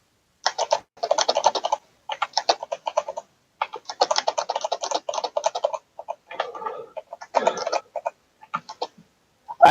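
Rapid typing on a computer keyboard comes through as close, crisp clattering bursts of keystrokes separated by brief pauses, loud and alone with no talk.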